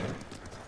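Horse hooves clip-clopping in a brief run as a rider travels on horseback in Ghost of Tsushima, moderately loud with a soft outdoor ambience and no speech.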